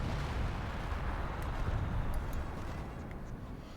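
A 25-pounder artillery gun in Company of Heroes 2 fires from a base, giving a dense, continuous low rumble of blasts and booms that stays loud and steady throughout, with faint crackles above it.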